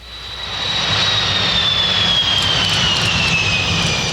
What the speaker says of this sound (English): The giant German jet catches every eye with its first appearance at Charlotte Douglas Airport.